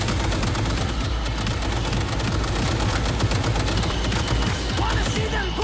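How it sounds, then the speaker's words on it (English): A combat mech fires guns in the Cyberpunk 2077 Phantom Liberty video game. Dense, continuous rapid gunfire and crackling shots fill every moment, loud and unbroken, forming a thick wall of noise. "Mech's still shooting, so there's still a couple of them left"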